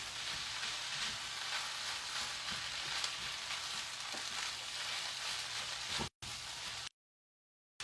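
Leftover rice being stirred and mixed in a hot pan for sweet and sour chicken fried rice, a steady close sizzle and scraping hiss that runs unbroken for about six seconds, then cuts off briefly and falls silent.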